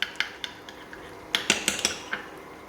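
A dessert spoon stirs a batter mixture for battered tofu fish in a bowl, giving a series of sharp, close metallic clinks and scrapes, sparse at first and then a quicker cluster of taps.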